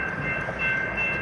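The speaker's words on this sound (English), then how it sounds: "these trains are sitting here for a 45 minutes" Trains stand idle on a railroad in an impoverished Detroit neighborhood, a steady low rumble with a faint sustained high whine, likely idling engines, continuous and fairly close with no speech.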